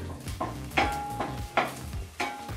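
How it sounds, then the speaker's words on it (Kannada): Onions fry on medium flame in a pan for a village-style spicy condiment, a steady close sizzle broken by repeated scraping stirs of a spoon against the pan at a regular pace. "ಈ ರೀತಿ ಈರುಳ್ಳಿನ ಹುರ್ಕೋಬೇಕಾದ್ರೆ ದಯವಿಟ್ಟು ಮೀಡಿಯಮ್ ಫ್ಲೇಮಲ್ಲೇ ಹುರ್ಕೊಳ್ಳಿ."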